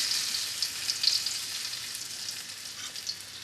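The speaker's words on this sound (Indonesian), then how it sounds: "We're going to saute until it becomes well cooked." Dried chili sautéing in a pan for sambal tumis: a steady, close sizzle of frying with light stirring scrapes, continuous and unbroken, with no talking.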